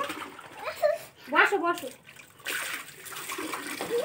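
Water splashing and pouring while a young child is bathed at home, with intermittent splashes over a voice talking to the child.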